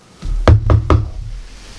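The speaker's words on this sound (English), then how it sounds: "There is a knock." Three firm knocks on a door in quick succession, close and solid, each a sharp thud, followed by a quiet room.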